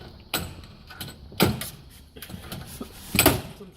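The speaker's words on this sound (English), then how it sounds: "I'm going to go ahead and release the hinges from here" Metal hinges of an oven door released by hand, giving a few separate clicks and clunks close up with short scraping between, no talking.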